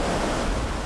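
Atlantic Ocean surf roaring in a steady, loud wash of breaking waves, close and continuous, with wind buffeting the microphone.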